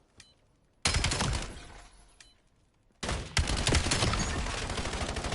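Loud bursts of automatic gunfire crackle in a Black Ops 7 match, one sharp volley, a short lull with a faint shot, then a second sustained burst of rapid fire.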